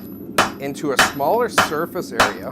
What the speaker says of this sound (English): I'm going to use my rounding hammer on top of the bit or horn, and this will allow me to isolate my blows